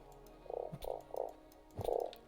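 Frogs croak at a desert oasis in the video game Starsand, four distinct throaty croaks in an uneven rhythm, fairly close, over a quiet ambient background with no talk.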